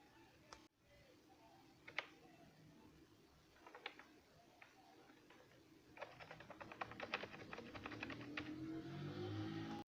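Keys clack on a computer keyboard as a KRA PIN is entered, scattered taps at first, then a quicker, denser burst of typing over a faint background hum.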